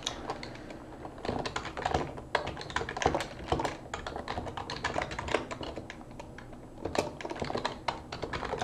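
Rapid, continuous clatter of computer keyboard keys as code is typed, close and steady with uneven bursts and brief pauses, no voices.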